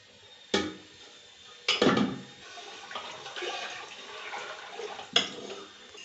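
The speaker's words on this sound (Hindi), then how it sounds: "उसमें मैंने लस्सी डाल के अच्छी तरह से हिला लिया" Lassi made from yogurt and gram flour is poured into a pot of spiced masala for chicken kadhi and stirred, giving liquid splashes and scraping clinks against the metal pot in several bursts, with no talking.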